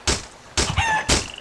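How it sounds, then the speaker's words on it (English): A chicken in a survival video game gives three loud, quick, close bursts of squawking clucks, one with a brief shrill note, with no talking. "Oh, we got the chicken as well."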